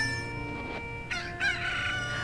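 A cucco, the chicken from the video game Zelda: Ocarina of Time, crows in a shrill rising call, heard over steady game background music.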